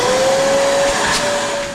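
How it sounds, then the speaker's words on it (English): A tiny vacuum cleaner used for cleaning wood cookstove pipes runs close by, a steady high-pitched motor whine with airy suction hiss that holds for the whole short stretch. "Little tidbit on that tiny vacuum."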